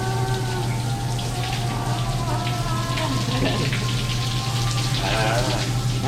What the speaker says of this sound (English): That was the wet sauna, and that was the aqua flema shower.